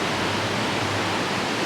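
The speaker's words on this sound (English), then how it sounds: "See the propellers churning up the water, getting the water all frothed up" Propellers of the cruise ship Wonder of the Seas churn and froth the water at the stern. The steady, close, broadband rush of turbulent water holds continuously with no voices.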